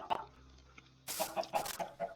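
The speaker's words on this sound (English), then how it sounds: "This is a chicken farm." Minecraft chickens cluck on a small automatic chicken farm in survival mode, a few soft clucks at first, then a denser run of repeated clucks and flutters up close, with no talking.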